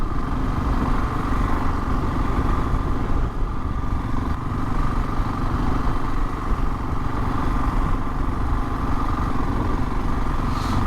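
Motorcycle engine holding a steady drone at about 30 mph in fourth gear during a police-led rider training course, loud and constant throughout with wind rush and no speech.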